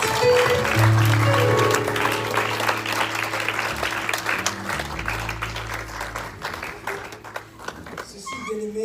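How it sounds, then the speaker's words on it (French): A church congregation at an evangelistic service claps and applauds loudly for several seconds, the sound dense and sustained before tapering slightly, with music and voices underneath. "Can someone clap for Jesus"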